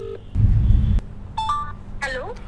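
An outgoing phone call placed to a subscriber: a brief rumble of handling noise, then a few short electronic tones and a rising-and-falling chirp, close and clear.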